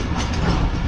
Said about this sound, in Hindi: कोच नंबर 13 के बाद की जो ट्रेन है वो वहाँ पर बिल्कुल सामने शंट हो रही है